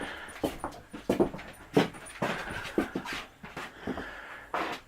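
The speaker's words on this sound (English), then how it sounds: "I got dogs in the way." Dogs panting close by in a house under construction, with repeated breathy bursts and occasional soft whimpers in an uneven rhythm, fairly quiet overall.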